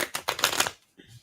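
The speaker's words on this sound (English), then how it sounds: "I shuffle twice if I do that" A deck of tarot cards is riffled in a quick, close burst of fluttering snaps lasting under a second, followed by a soft tap as the deck settles.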